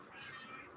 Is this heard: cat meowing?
yes